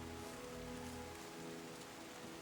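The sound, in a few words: rain in the video game Terra Nil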